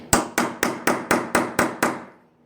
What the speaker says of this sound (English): we're going to beat it in there pretty damn hard